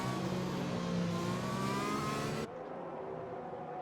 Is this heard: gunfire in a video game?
no